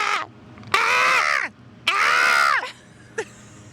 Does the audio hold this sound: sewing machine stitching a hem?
no